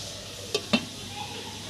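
A lid set onto a pan of Kenyan-style masala chips frying, two sharp metallic clinks close together over a faint steady sizzle.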